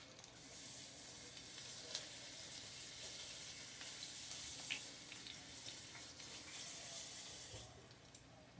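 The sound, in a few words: leftover pork roast frying in a pan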